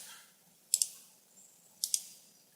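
Two quick pairs of crisp computer mouse clicks, close and clear, separated by about a second of near silence.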